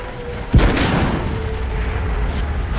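A single deep artillery boom from a distant shot in World of Tanks, one sharp low thump that rolls out into a sustained rumble under steady battle ambience.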